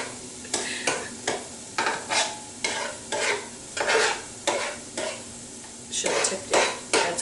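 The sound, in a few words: scrambling eggs in a pan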